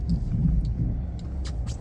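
An old Chevy pickup truck pushes fresh snow after a heavy first snowfall, its engine giving a close, steady low rumble through a brief stretch.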